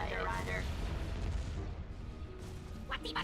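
Ion cannon fire in the Star Wars: Empire at War space battle game, heard as dense, continuous low rumbling booms that stay loud for the whole stretch, with a brief bright crackle near the end.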